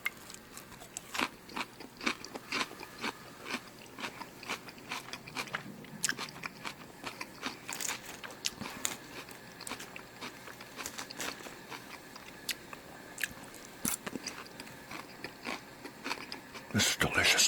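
Crunchy, wet biting and chewing of a chef's salad topped with egg, close and intimate, with irregular bursts of crisp crunches and mouth sounds throughout and no talking.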